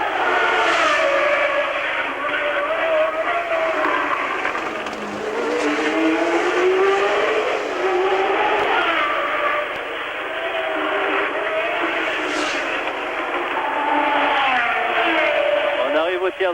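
Formula 1 cars race past at the 1981 Monaco Grand Prix, engines wailing loud and continuous with rising and falling pitch sweeps as cars pass, while a commentator speaks over them.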